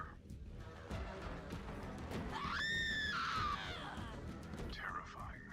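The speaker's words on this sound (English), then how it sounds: "Could you do me a favor and scream into this cursed recorder?" A single rising, wavering scream goes into a cursed recorder in the video game Borderlands 3, lasting about a second, with game sounds and faint voices around it.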